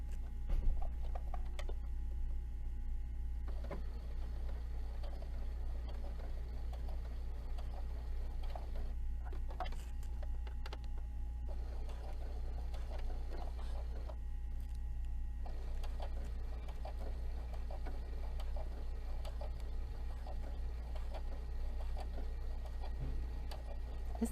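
A small, quiet sewing machine stitching fabric for a zipper pouch, a soft steady mechanical hum with faint ticking of the mechanism running continuously, close and low in level, with no talking.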